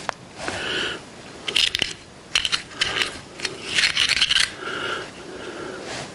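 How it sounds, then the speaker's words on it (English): An acid brush scrubs and scrapes high-temperature grease into the nut of a Reed 602 vise, giving close, rasping bristle strokes in uneven bursts with short pauses between them. "we're just going to take an acid brush and go down in there and just kind of distribute it into the"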